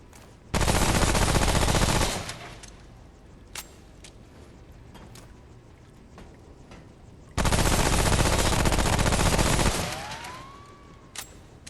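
Two long bursts of rapid automatic gunfire from the game Remnant: From the Ashes, each lasting about one and a half to two seconds, loud and close, with a few single shots in between.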